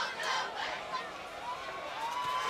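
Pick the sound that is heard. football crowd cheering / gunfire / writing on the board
football crowd cheering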